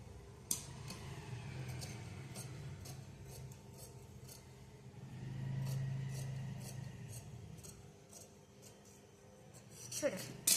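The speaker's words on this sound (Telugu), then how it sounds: "ఇప్పుడు ఇది ఎట్లా మారకు వేసుకున్నామో అట్లా కట్ చేసుకుందాము" Scissors cut a blouse's cross-belt fabric along a chalk marking with a soft, faint rasping snip that repeats in short strokes. A voice is heard now and then.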